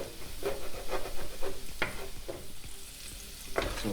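Garlic softens gently in a pan over low heat, giving a steady soft sizzle broken by repeated stirring scrapes at an irregular rhythm, close and fairly quiet, with no talking.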